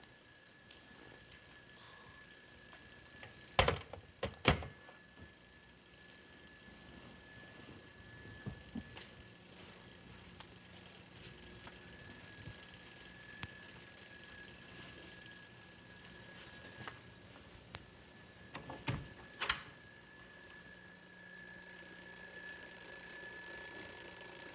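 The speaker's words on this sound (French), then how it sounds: "veux-tu me dire pourquoi t'as mis ton réveil à 5 heures?" An alarm clock set for five o'clock rings with a bright, high electronic tone held across a steady, quiet room. Sharp bangs and knocks break in near the start and again later, and nobody speaks.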